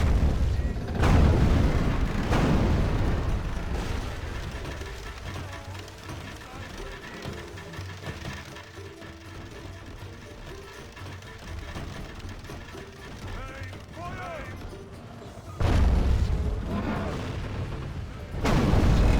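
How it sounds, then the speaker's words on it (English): Catapults loose and impact during a Crusades-era battle in a strategy video game, heavy booming thuds and crashes at the start and again near the end over a continuous roar of battle noise. "Catapults are going to be firing here in a moment"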